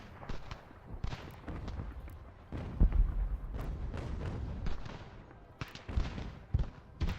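Musket volleys and cannon booms in the Ultimate General: American Revolution strategy game, irregular sharp reports and heavier thuds of varying distance over a low battle rumble.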